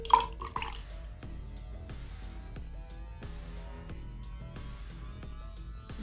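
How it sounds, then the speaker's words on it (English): A drink being poured, with close, bright trickling and splashing of liquid and scattered drip-like plinks over several seconds, fairly quiet, with no talking. "I was pouring myself a drink"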